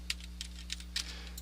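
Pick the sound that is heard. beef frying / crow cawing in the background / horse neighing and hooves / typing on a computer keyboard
typing on a computer keyboard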